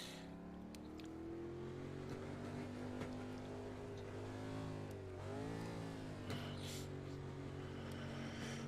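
A race car engine in a racing video game, Ford Motorcraft 150 race, accelerates out of the pits with a steady loud harmonic drone that dips and climbs again through gear changes, no voices over it.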